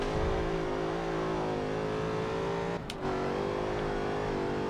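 A race car engine in the video game Forza Motorsport 7 drones at steady high revs, loud and continuous, with one brief dip like a gear shift near the end and no talking.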